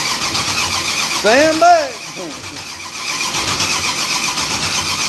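A car engine cranks over with a rising, whining starter chug that lasts about half a second and then dies away. Faint background hum surrounds it, and a person speaks briefly.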